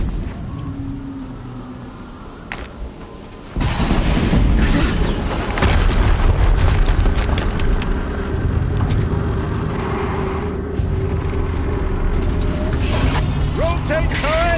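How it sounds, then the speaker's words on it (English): A heavy explosion in the video game Horizon Zero Dawn, a loud boom that bursts in a few seconds in and rolls on amid mechanical clanking and rumble, with a voice talking over parts of it. "Another explosion."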